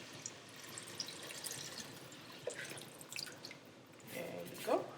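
Dark mushroom juice is poured into a cooking pot for Haitian-style black rice, giving a faint trickling and dripping that swells into a brief splash near the end.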